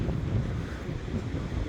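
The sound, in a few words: sea waves at Blackpool promenade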